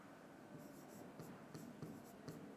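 A pen scratching on paper during a math lesson, faint and close, with short irregular strokes over a steady background hiss.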